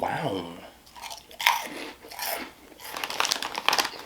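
Crunchy Andy Capps onion rings being chewed close to the mic, loud crisp bites and crunches coming in uneven bursts with brief pauses between mouthfuls.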